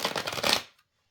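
Cards of a linen-cardstock tarot deck with marker-coloured edges are shuffled in one quick, crisp riffle lasting about half a second, close up, then silence.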